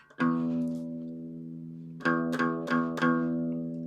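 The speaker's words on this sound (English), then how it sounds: "There's your target for the 6th string E, the low E." A low plucked note on the guitar's low E string rings out and sustains, then is struck again three more times in quick succession, each note decaying slowly.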